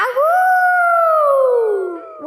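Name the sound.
child imitating a wolf howling at the moon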